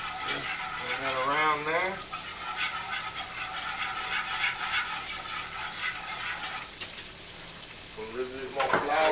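Flour sizzles and fries in pork chop drippings in a skillet as gravy is stirred, a steady close crackling hiss with scraping, while someone talks over it at the start and near the end.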